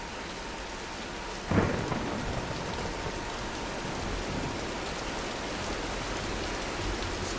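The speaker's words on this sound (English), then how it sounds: "let's wait out the storm" Heavy rain pours steadily in a Tomb Raider (2013) game storm, a dense even hiss. A single deep thunder crack strikes early on and then rolls away beneath the downpour.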